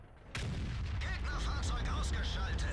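A heavy tank gun in World of Tanks fires with a sudden loud boom, followed by a rumbling low-end roar and scattered mechanical clanks, with faint voice-like sounds mixed in.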